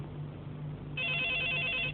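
A telephone rings loudly and close, a steady electronic bell tone that starts partway through after a quiet stretch of low room hum.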